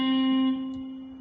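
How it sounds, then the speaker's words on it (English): A plucked guitar B string buzzes at the first fret, giving one sustained note with a bright, slightly rattling edge that fades over about a second. "The string is buzzing."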